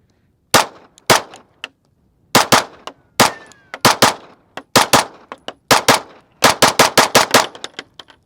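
Rapid string of sharp gunshots from an EAA Girsan Witness 2311 Match X pistol, fired in quick bursts of close, loud cracks separated by short pauses, with no talking.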